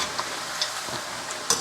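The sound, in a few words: beef meatballs frying in oil in a pan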